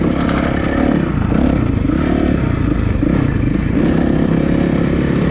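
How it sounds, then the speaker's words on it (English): A dirt bike engine revs hard and continuously on a wet, rutted motocross track at Diablo MX Ranch in California, loud and close, with rising and falling throttle and some clatter throughout. "You can really let the bike open up."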